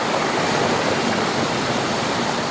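Powerful diesel pumps run nonstop to eject leftover water from inside a cofferdam's walls, making a steady, dense roar of rushing water with no breaks and no voices.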